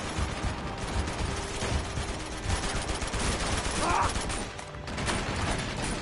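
Gunfire from Uncharted 2: Among Thieves crackles in dense, rattling bursts over a busy, continuous game-action din, with a voice speaking briefly.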